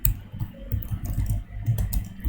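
Computer keyboard keys clatter in quick, uneven bursts while code is being typed, close and moderately loud with no talking.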